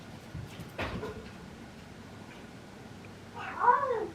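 A pet cat with the zoomies gives a short meow near the end, after a few faint thumps and scuffles, in an otherwise quiet indoor room.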